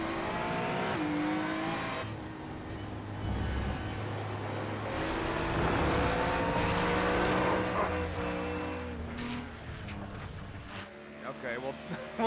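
Onboard engine sound of a Ferrari GT3 race car, number 77, in a sim racing esports event at Shell V-Power Motorsport Park, loud revving with gear shifts and tire squeal while a commentator speaks over it.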